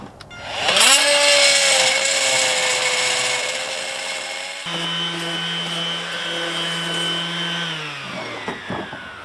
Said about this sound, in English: I'm gonna try cutting some steel with this one and seeing how it goes.